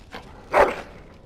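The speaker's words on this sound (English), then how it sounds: "Bloody dog." A dog in the fantasy game Dragon Age Origins gives one short, close bark, preceded by a faint yip.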